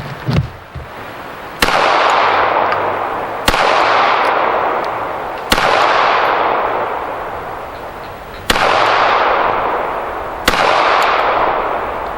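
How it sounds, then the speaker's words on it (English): Five loud, sharp gunshots from a .32 ACP pistol firing Xtreme Cavitator rounds into ballistic gel, spaced about two seconds apart, each crack trailing off into a long ringing echo. "I'm gonna fire 5 shots in a row, hopefully the 4 corners and the center"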